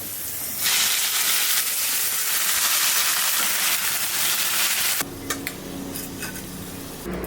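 Malabar spinach greens stir-fried in a pan: a steady loud sizzle with stirring scrapes, which drops to a quieter hiss with a few clinks near the end.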